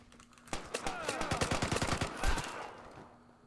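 A Thompson submachine gun in the game Vigor fires a rapid, sustained burst of about fifteen closely spaced shots lasting roughly two seconds, fairly loud, before tapering off.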